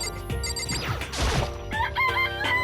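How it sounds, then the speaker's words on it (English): A chicken crows and clucks in the video game Danganronpa, rising over a busy backdrop of game music and a crash-like burst, with no talk. "It's a chicken."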